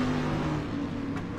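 Dirt track race cars in the sim game iRacing, a steady loud engine drone with revving tone and a faint tire squeal near the end, continuous and close.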